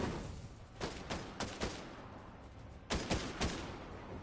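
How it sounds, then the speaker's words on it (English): Bursts of gunfire in a video game, a few quick volleys of rapid shots, with a cluster near the start and another louder group later, over steady game ambience. "I hear shooting."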